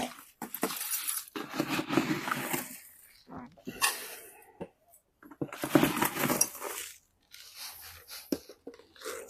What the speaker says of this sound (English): But I've got to get the soil in the pot before I do anything else.